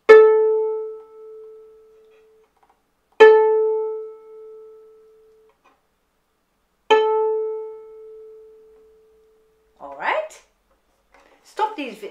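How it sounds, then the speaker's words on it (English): A plucked violin A string rings out three times, each pluck a clear sustained tone that decays over a couple of seconds, followed by brief fainter string noises at the end. "And when I pluck my A string, it sounds like this."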